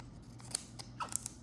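Scissors snip through a sticker in a few quick, crisp cuts, close and quiet, with small clicks of the blades between them.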